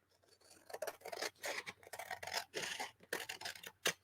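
Scissors snip through paper for a country kitchen junk journal, a close run of crisp, repeated cuts in uneven bursts with short pauses between strokes.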